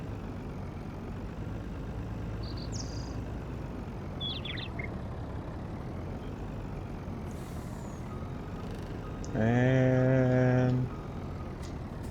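A truck backing a trailer into place, with a steady idling engine rumble throughout, brief squeaks, and a loud air-like hiss or horn blast near the end.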